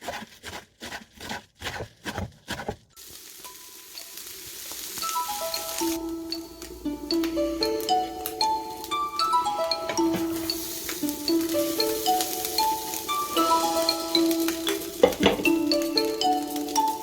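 Rice sizzling and crackling as it burns on the bottom of a rice pot, a steady close hiss with scattered pops and metallic clinks, following a few sharp knocks at the start.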